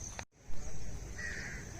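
A crow at the Khajuraho temple monument gives a short caw, then a faint harsh call follows against steady outdoor ambience, with no talk.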